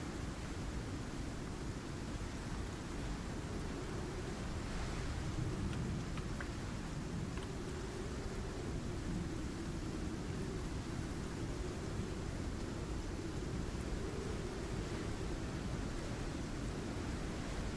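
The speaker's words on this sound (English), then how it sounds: "Storm is not passing as fast as I thought." A thunderstorm in the video game Icarus: steady, loud, broadband rushing of rain and wind that continues without a break, with low rumbling underneath and no talk.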